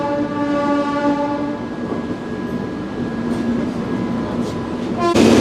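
Kevadia Jan Shatabdi train with Vistadome glass coaches running on the track near Vishwamitri, a steady close rumble and rattle of wheels with a sustained horn tone fading out, then a louder horn burst at the end.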